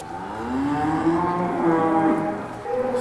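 A cow on a dairy farm in Eure, Normandy, gives one long, close moo that rises in pitch and then holds. There is no talking.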